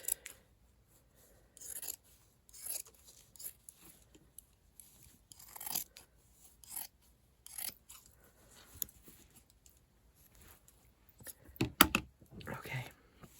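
Scissors snip through old sweater fabric as the sleeves are cut off, a quiet scattering of short, crisp cuts with pauses between them and a denser run of snips near the end.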